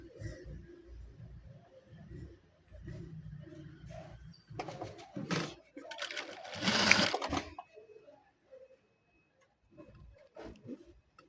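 A sewing machine stitches fabric for a dress with a heart-shaped cut in short, uneven bursts of whirring, with louder stretches in the middle and quiet gaps between runs.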